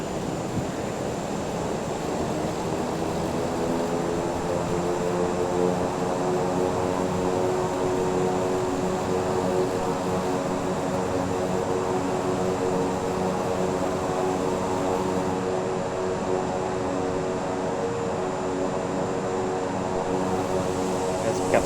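Beechcraft King Air 350i turboprop propellers in reverse thrust in a flight simulator, a steady loud droning roar with layered engine tones, continuous and unchanging throughout.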